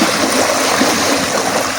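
Small streams flowing down around Mount Kending, a steady, full rush of moving water that stays constant and fairly loud from start to finish, with no voices over it.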